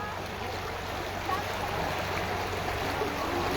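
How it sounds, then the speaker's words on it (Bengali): Floodwater rushing through a widening breach in an embankment, a steady broadband roar of flowing water holding constant throughout with a low hum underneath, fairly distant and uniform. "আমি আপনাদের দেখাবো এই মুহূর্তে অনেকটা অংশ জুড়ে কিন্তু জল যাচ্ছে"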